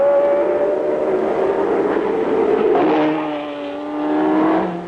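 Formula One racing cars circling the Nürburgring, engines snarling in a sustained loud roar with a rising and falling pitch as one car passes close by and another follows, no talk over them.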